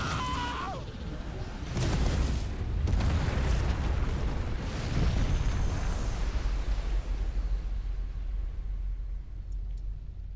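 Fire attacks shot at an enemy in the video game Final Fantasy 16, a dense, roaring burst of blasts and crackling whooshes that stays loud and continuous throughout, with no talking.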